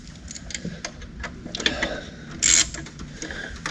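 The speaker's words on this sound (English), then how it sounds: "Now I can kind of tighten on it" A wrench with an extension tightening the grid heater bolt on a RAM 6.7 Cummins engine, giving close, faint mechanical clicks and ratcheting ticks, with a brief louder scrape partway through.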